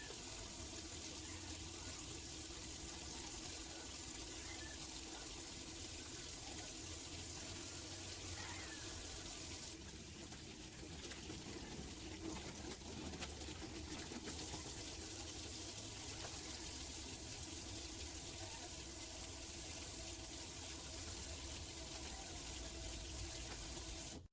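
Running tap water pours into a sink during handwashing in a nursing vital-signs demonstration, a continuous faint hiss with brief splashy shifts midway, no voices.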